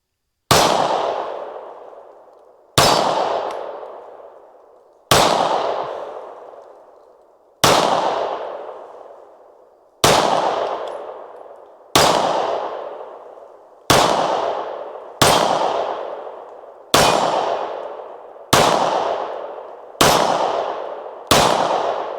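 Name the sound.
Springfield XD Mod 2 9mm pistol shots hitting steel targets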